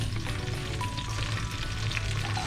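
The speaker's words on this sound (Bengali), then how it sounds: "তো সিম্পল মাছ রান্না করছি" Fish frying in a pan in a home kitchen gives a steady, close, hissing sizzle that continues evenly throughout with no talking.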